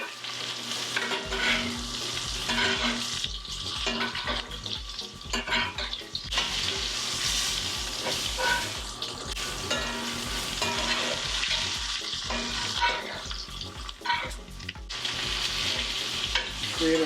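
Butter, thyme and garlic sizzling loudly in a pan with lamb chops, a dense continuous frying hiss with occasional stirring and utensil scrapes, close and without speech.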